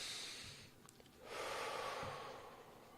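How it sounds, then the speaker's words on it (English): Slow, deep breaths drawn in through the nose, close and quiet: a long airy inhale, a short pause, then another drawn-out breath with no talking. "deep breaths in through your nose"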